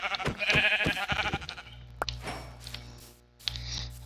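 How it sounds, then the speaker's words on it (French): Sheep in Minecraft bleating several times in quick wavering bursts during the first second and a half, loud and close, then fading into quieter game ambience with a steady low hum. "Un mouton, un mouton."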